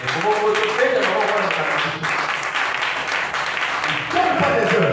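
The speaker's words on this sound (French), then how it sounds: "on acclame pour notre pasteur" A congregation applauds for their pastor at a Friday evening church meeting, a dense wash of clapping sustained throughout with voices calling out over it.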